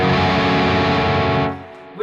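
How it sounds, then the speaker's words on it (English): A high-gain, heavily distorted electric guitar plays a sustained power chord fretted at the 4th fret on the A and D strings. The fuzzy tone rings loud and steady for about a second and a half, then cuts off sharply. "with distortion, it can sound pretty fuzzy. I've got quite a high gain on it."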